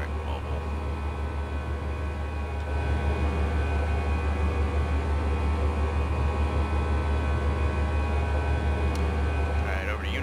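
A simulated Airbus A320 in X-Plane 11 rolls for takeoff, its engines making a steady broadband roar that swells a little partway through and then holds, with no talking.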